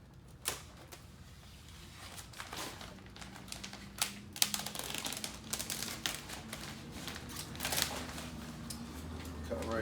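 Plastic sheeting for a restoration containment setup is cut off the roll while one person holds it, giving a series of sharp crinkling snips and rustles at close range, with a faint hum underneath.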